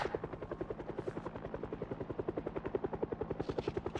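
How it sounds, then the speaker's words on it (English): A helicopter in the video game Project Zomboid flies overhead, its rotor thudding in a fast, steady pulsing beat at moderate loudness, alone without talk. "So the chopper's overhead today, and because this is vanilla Project Zomboid, it's only going to arrive once ever."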